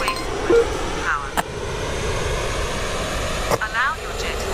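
A Me 262 A-1a jet engine runs up to full throttle for takeoff in a flight simulation game, making a steady, droning roar with a few sharp clicks, under a narrating voice.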